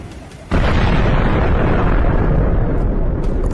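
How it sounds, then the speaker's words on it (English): A precise strike blowing up a Russian field depot: a sudden loud blast after a quieter opening, followed by a sustained heavy roar and rumble that fills the rest of the moment without fading. "A precise strike destroys the target."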